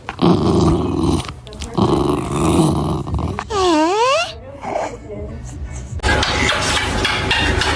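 A jealous dog growls low and rumbling in several bursts close to the microphone, broken by a higher whining yelp and some rustling handling noise.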